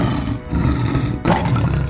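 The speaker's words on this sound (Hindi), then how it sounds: "शेर ने मदद के लिए दहाड़ लगानी शुरू कर दी" A lion caught in a hunter's net roars for help: a loud, sustained roar broken by a brief gap, then a second deep, rumbling roar, with no speech.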